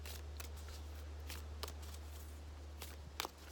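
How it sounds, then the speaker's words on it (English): Rebecca Campbell oracle cards being picked up and shuffled nearby, a run of soft, quick papery flicks and slides in irregular bursts over a faint steady hum. "I'm going to pick these cards up"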